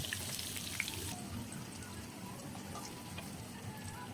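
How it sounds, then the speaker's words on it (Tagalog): Carrots frying in annatto oil for a menudo dish, giving a steady close sizzle with light crackling throughout, no voices. "prito muna natin yung ating carrots mga idol"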